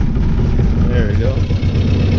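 The engine of a 1966 Austin Healey Sprite, running on its own fuel after a rebuild, idles with a steady, loud, close low rumble while a person talks over it.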